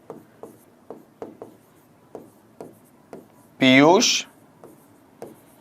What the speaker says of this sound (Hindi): उस सेंटेंस को यहां लिखते हैं।